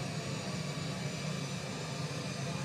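Airliner engines spooling up for takeoff in a flight simulator, a steady broadband roar with a low rumble that holds evenly throughout, loud and continuous with no talk over it.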